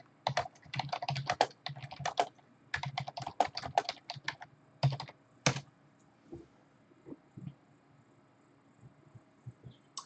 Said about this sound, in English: I'll type it out for you.